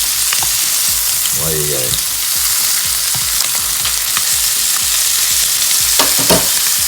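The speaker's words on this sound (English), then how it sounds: "Bit of butter, hot pan, beautiful fish" Fresh breaksea cod or baldchin groper fillets frying in butter in a hot pan, a loud continuous crackling sizzle with pops and spatters, while someone briefly speaks over it.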